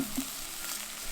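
Risotto rice toasting in butter and oil in a special Italian risotto pan, a steady soft sizzle and crackle with no talking.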